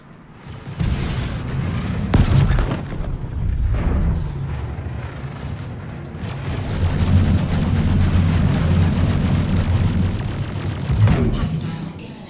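In the Star Citizen space combat game, ship explosions boom in a chain of loud heavy blasts, with crackling debris and a sustained low rumble between bursts.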